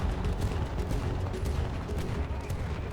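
Rapid ripple fire from the naval guns of HMCS Terra Nova, a Restigouche-class destroyer escort in a warship video game, rumbling as a dense, continuous barrage of booms over the full three seconds.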